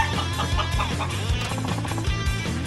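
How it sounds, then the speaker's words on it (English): Chicken clucking in a city alley in Yakuza 5, repeated short clucks over a steady bed of game music, fairly loud and with no talk. "What the heck's a chicken doing in the middle of the city?"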